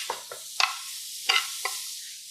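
Jackfruit taco meat is stirred in a hot pan, giving five or six quick scraping, sizzling strokes over a soft steady frying hiss, close and clear, with no voices.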